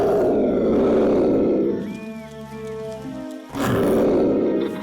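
Bagheera the panther, a cartoon character, lets out a loud sustained roar, a short pause, then a second loud growling roar.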